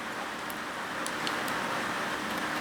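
Rain falling steadily at a welding workspace, a constant, even hiss that holds at the same level throughout with no pauses.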